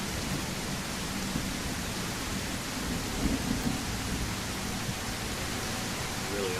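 Heavy rain and rolling thunder fill a thunderstorm on a coastal road in the game Hiraeth, a continuous wash of noise with a low rumble building slightly past the midpoint, close and steady, with no one speaking.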